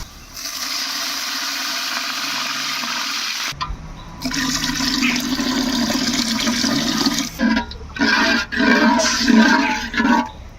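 Water is poured into a pan of onions fried until reddish, setting off a loud, steady rushing sizzle that keeps going with brief breaks and surges toward the end.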